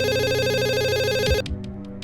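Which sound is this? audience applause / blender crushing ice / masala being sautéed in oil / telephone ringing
telephone ringing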